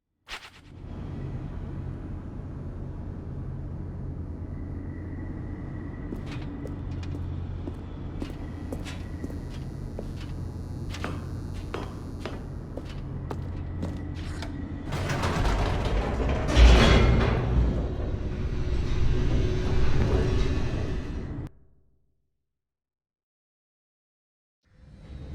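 An elevator in The Stanley Parable plummets downward with a steady mechanical rumble and scattered clanks, which swell into a louder rattling roar before cutting off abruptly into silence.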